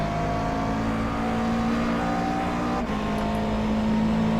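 Race car engine in the iRacing simulator, held at steady high revs with a sustained droning tone, with a brief gear-shift dip near the end before the note carries on, loud and close, no voices.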